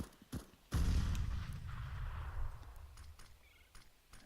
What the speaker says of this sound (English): So those are basically warning shots.